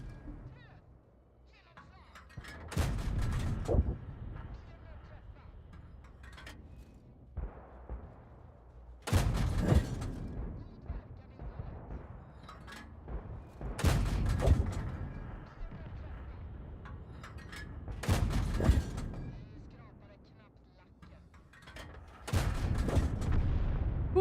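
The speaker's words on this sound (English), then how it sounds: "What is a spicy sounding gun?" Heavy gunfire in a first-person shooter, five loud booming volleys spaced a few seconds apart over a constant low rumble of battle, with someone talking in between.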